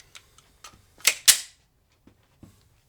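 Three sharp pistol shots from a VP9 crack in quick succession, two of them loud and close together, with faint clicks and handling noise before and after at an outdoor range.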